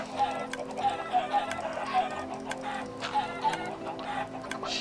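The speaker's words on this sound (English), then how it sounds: "Come on, chickens." Minecraft chickens clucking in repeated short bursts through a busy game soundscape, with a steady ticking rhythm underneath and no voices.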